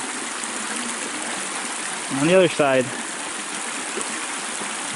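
A flowing creek on the East Branch Fish Creek Trail gives a steady, close broadband rush of water that runs the whole time, with a short stretch of speech partway through.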